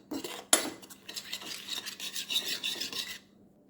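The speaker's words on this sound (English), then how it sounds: "I'm going to mix that all together. And I'm going to kind of mash those peppers in there" Peppers are mixed and mashed with avocado oil in a bowl, giving a steady close scraping and rasping of a utensil against the bowl, with a sharp knock near the start.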